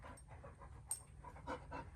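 A dog pants quietly and rapidly nearby, a soft steady rhythm of breathy huffs with a faint squeak partway through.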